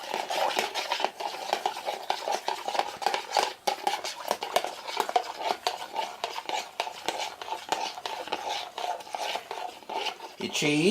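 An egg being stirred in a bowl, with steady scraping and tapping strokes of a utensil against the dish running continuously and close by, no talk.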